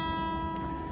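Open high E string on an acoustic guitar, a single sustained note with clear ringing overtones, played softly and alone.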